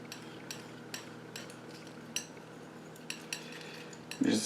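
Blue paint being mixed into ink on a palette, soft scraping strokes broken by light clinks of the tool at irregular intervals, close and quiet, with a louder rustle at the end.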